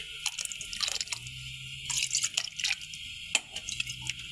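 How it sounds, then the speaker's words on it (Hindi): Soaked basmati rice tipped into a pot of water, giving wet splashy drips and crunchy, squishing grain sounds in uneven bursts, close by with no talk. "मैंने चावल जो है ना वो इसमें डाल दिए"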